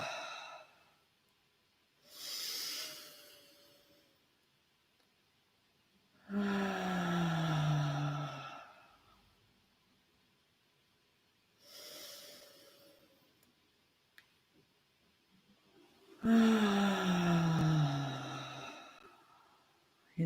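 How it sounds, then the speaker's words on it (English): Slow, deep breathing in three full cycles, each a soft nasal inhale followed by a longer, audible sighing exhale through the mouth. Quiet pauses separate the cycles, and nothing else is heard. "let's take 3 complete cycles of breath together, inhaling through the nose, exhaling through the mouth"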